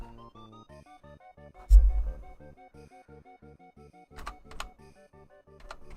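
A few keys pressed on a new backlit computer keyboard: scattered soft plastic clicks and taps, sometimes in quick pairs, heard under steady melodic game music.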